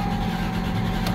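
A 2005 Lexus IS300 engine running rough, a loud, close, continuous low rumble with a steady hum and no talking.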